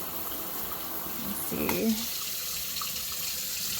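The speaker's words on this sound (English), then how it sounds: "the water like comes out really far, so it's like easy to spray all over the place" Water from a sink faucet sprays and splashes steadily, with a brief louder splash partway through, while a person speaks briefly over it.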